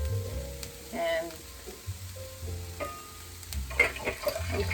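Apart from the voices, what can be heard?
egg rolls frying in hot oil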